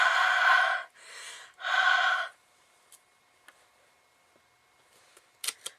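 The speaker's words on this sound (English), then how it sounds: "I'm going to breathe on it and stamp it down" Three long, soft breaths are blown onto a rubber stamp inked with Arteza Twin markers, each a breathy hiss. A few quiet taps and clicks of the stamp follow, the last two slightly louder.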